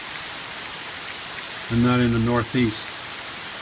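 Rain falls outside a van as a steady, even hiss that fills the whole stretch, while a person briefly talks over it.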